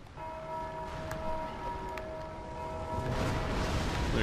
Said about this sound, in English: There goes one of the hollows attacking the bells.